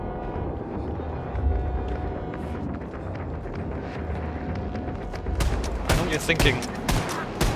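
Rapid in-game gunfire from a weak gun in Wolfenstein 2: The New Colossus, a steady run of sharp shots over a busy action soundscape, growing denser and louder toward the end, with someone talking over it.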